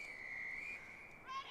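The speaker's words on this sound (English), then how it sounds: "waits for referee Efferidge to blow the whistle" A referee's whistle at the start of a women's Division I rugby semifinal: a long, steady, shrill tone held for over a second, then a brief warbling change near the end, heard at a moderate distance over crowd noise.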